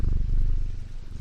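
Jupiter, a shop cat in the video game Strange Antiquities, purrs in a low, steady rumble, close and continuous with a soft pulsing rhythm and no voices over it.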